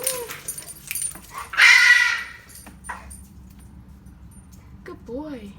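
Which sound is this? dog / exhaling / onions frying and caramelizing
dog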